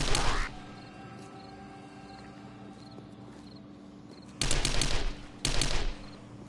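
Automatic gunfire in the video game 7 Days to Die on PS5, three loud rapid bursts: one at the start and two close together near the end, with a dull ambient backdrop between them.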